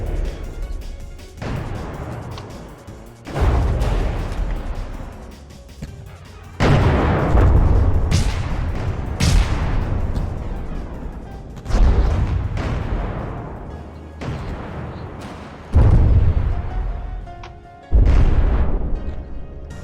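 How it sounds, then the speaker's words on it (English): Ventral guns firing on a flying dreadnought in the From the Depths video game, heard as loud booming artillery blasts at irregular intervals of a few seconds, each leaving a long rumbling decay, with no talk. "the ventral guns seem to be working just fine"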